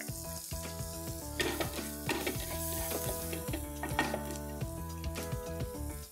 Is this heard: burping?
no